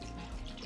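Spring water pouring into a Vitamix stainless steel blender container, a brief, full splashing rush heard close up with no talk.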